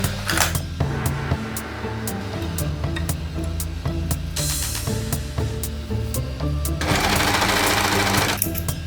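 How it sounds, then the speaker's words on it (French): A serger overlocker set up for cover stitch runs steadily at speed, a dense continuous mechanical whir with rapid needle rhythm, holding at one level for the whole stretch with a few small rattles and no talking. "ma fantastique surjeteuse me permet de faire un subterfuge de point de recouvrement"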